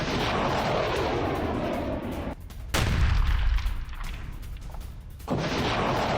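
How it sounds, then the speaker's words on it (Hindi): Several missiles launch in a Houthi missile attack during war training. Each launch gives a loud roaring rush, with deep booming surges separated by brief dips and a sustained rumble between them. "एक साथ कई मिसाइल अटैक का वीडियो जारी किया विद वीडियो। वॉर ट्रेनिंग के दौरान मिसाइल दाग कर दी चेतावनी।"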